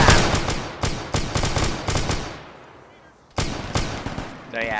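Loud bursts of rapid gunfire and heavy weapon blasts from a Warhammer 40K beach assault battle game, several sharp volleys, a short lull, then more shots with a brief electronic tone.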